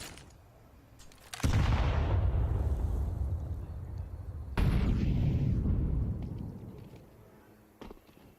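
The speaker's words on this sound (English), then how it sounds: "go ahead, dodge these grenades. Just sit back in your spawn until they've all been popped." Two heavy grenade blasts in a competitive video game match, the first at about a second and a half, the second near the middle, each a loud, close boom that rumbles and slowly decays, leaving a faint quieter stretch at the end.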